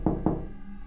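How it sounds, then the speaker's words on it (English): Two soft, faint knocks from behind a basement door in a quiet house late at night, close together and then followed by near silence. "It sounded like a faint knock."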